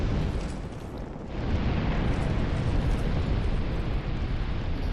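A gunpowder barrel explodes in Dark Souls 2, a sustained loud rumbling blast that swells and roars on for several seconds with no talk over it.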